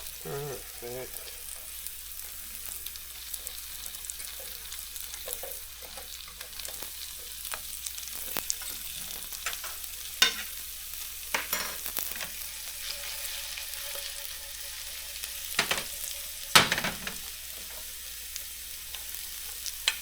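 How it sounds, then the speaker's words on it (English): Food frying in bacon fat gives off a steady, close sizzle with crackling pops, broken up now and then by sharper scrapes and taps as it is stirred in the pan. "Cooked in bacon fat today."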